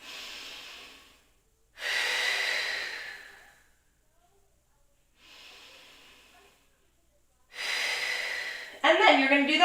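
Slow, deep breaths during a guided rib-expansion exercise for the shoulders, long airy inhales and exhales in three or four broad swells with quiet gaps between, close and fairly loud, a voice starting briefly at the end.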